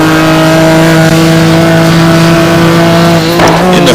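A Ferrari 550 GT1 race car roars at high revs on the Monza circuit, a loud sustained engine howl holding steady before a quick rising shift near the end, close and dominant.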